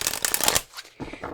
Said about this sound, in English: I like to put the pile leader right back into the deck and shuffle.